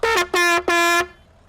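A vehicle horn sounds three times in the farming video game Landwirtschafts Simulator 25, a short toot followed by two longer blasts, loud and close, then fades to quiet.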